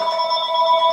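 A telephone rings indoors with a steady electronic trill that holds for the full second, close and clear, with no voices.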